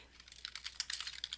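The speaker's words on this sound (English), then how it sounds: "I'm going to type the information" Quick, light keystrokes on a computer keyboard, a fast irregular run of soft clicks, close and fairly quiet.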